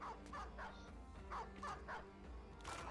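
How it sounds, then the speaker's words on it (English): A dog in the fantasy combat game Battle Brothers gives a quick series of short barks and yips, faint and spread across a few seconds. "You better not kill this dog"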